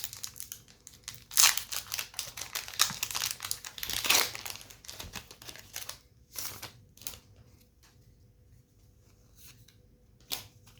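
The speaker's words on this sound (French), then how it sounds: "Alors, on va ouvrir le booster Nymphali" Someone opens a Pokémon Nymphali (Sylveon) booster pack bought at a flea market, with bursts of crinkling, tearing foil wrapper, a loud rustle around mid-way, then quieter handling and a final crackle, no talking.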